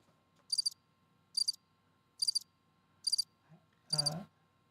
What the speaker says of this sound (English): It's the same cricket sound repeated over and over again